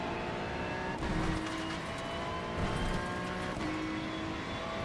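A Ferrari 296 race car revs and accelerates through a racing video game at Rudskogen, its steady loud engine drone rising and falling as it comes onto the throttle, with faint tyre noise and no talking.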